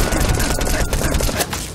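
Mounted turret gunfire in Metal Gear Solid 5: The Phantom Pain, a loud, rapid burst of overlapping shots heard alone in a short clip.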